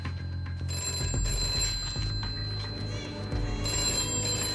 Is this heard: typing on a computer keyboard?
no